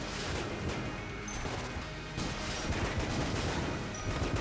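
Gunfire in the game Enter the Gungeon, a dense, continuous rattle of rapid shots and impacts, loud and busy throughout, with no talk over it.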